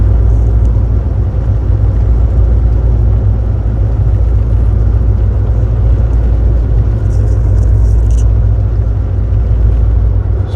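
A truck cruises along a snowy California road in economy mode with reduced power, its engine a loud, constant low rumble and whir with no breaks.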